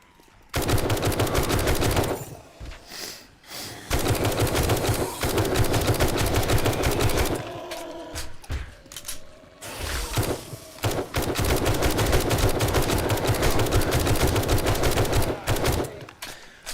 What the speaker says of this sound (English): I think you are shooting at your walls